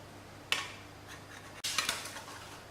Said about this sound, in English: I run a knife around the edges to make sure it doesn't stick.